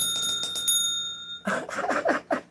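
A small child rings a bell, striking clear metallic tones that ring and sustain, followed by a burst of quicker, clattering rings close by.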